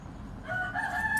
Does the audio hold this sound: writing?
no